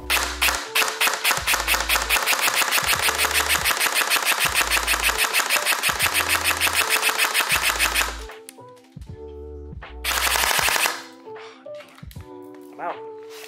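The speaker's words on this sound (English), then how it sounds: "let's go over to the chrono and see just how fast we can get this to turn over" A Lancer Tactical Gen 3 airsoft AEG on an 11.1V battery fires long full-auto bursts, a fast, loud mechanical rattle with a brief pause and another short burst, followed by quiet clicking.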